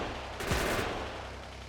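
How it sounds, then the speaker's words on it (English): A short, loud burst of heavy gunfire from big guns in the factory-building game Factorio, one sharp blast with a brief ringing tail under a low background hum. "Shooting all the things with my big, big guns"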